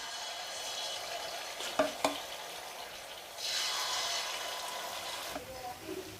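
Malpua batter fries in oil in a malpua pan, with a soft steady sizzle, a couple of sharp clinks from a utensil, then a louder hissing swell as more batter hits the hot oil.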